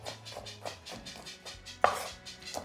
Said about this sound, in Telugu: జస్ట్ డ్రై ఫ్రూట్స్ అన్నీ చిన్న చిన్నగా కట్ చేసుకోండి.